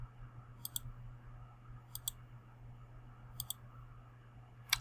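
Computer mouse clicks come in quick pairs, repeating three times at a steady pace, crisp and close over a faint hum in an otherwise quiet room.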